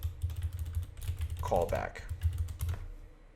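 Quick light keystrokes on a computer keyboard, close up, tapping steadily under a low constant hum while a voice speaks briefly in the middle.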